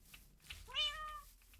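A cat meows once in a video game, a single rising-falling cry, fairly faint over a low background hum, with no talk.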